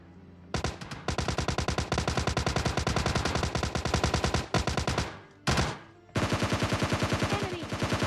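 Rapid automatic assault rifle fire in the mobile shooter PUBG Mobile Lite, loud sustained bursts of evenly spaced shots with two short breaks, no talking.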